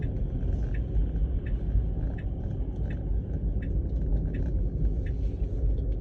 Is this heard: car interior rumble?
yes